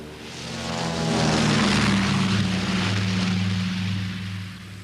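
Engines of a Catalina flying boat drone steadily in a loud propeller roar that swells and slowly fades, with no voices.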